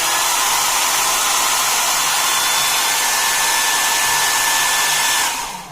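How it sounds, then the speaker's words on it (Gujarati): An electric dryer used for drying clothes inside a pillowcase runs with a loud, steady blowing whir close by and winds down at the end. "પછી તમારે ડ્રાયર ઓન કરી દેવાનું છે"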